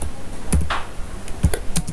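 Several sharp key clicks from a computer keyboard during JavaScript coding, a keyboard shortcut being pressed, spaced out with quiet gaps between taps, close and fairly crisp.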